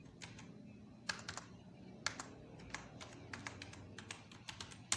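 Soft keyboard typing at a computer while designing a calendar in a graphics program: sparse, light key clicks spaced irregularly, close but quiet over a faint background hum.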